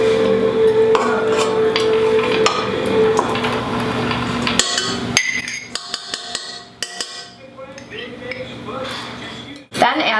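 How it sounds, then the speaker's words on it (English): Butter being mixed in a bowl for cookie dough, with metal utensils clinking and scraping against dishes in a steady, busy rhythm, close by, with background voices at times. "We're going to first mix the butter."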